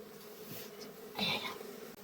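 Honeybees buzzing faintly during a village honey harvest, a soft insect drone with a brief louder swell midway, under quiet surroundings.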